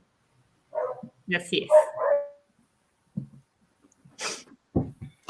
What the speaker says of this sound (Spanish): perdón por mis perritos